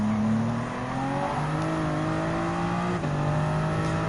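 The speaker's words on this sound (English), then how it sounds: "Good revving up the limit." A Lamborghini Huracan GT3 race car engine revs hard in Gran Turismo 7, a loud continuous drone climbing steadily in pitch through gear shifts, close and sustained with no voices over it.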